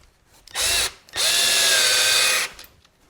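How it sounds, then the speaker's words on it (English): A power driver sends stainless steel screws into a western saddle tree, whining in two bursts, a short one and then a longer steady run, each with a clear stop, and no one talks. "You're going to see I'll pull out these screws and put them back in several times."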